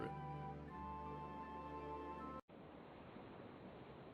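Steady ocean surf washing in a homemade RPG game scene, a broad, even rush of waves that cuts in abruptly after a brief gap and holds alone with no music.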